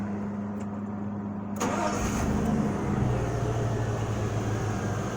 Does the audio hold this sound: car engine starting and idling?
yes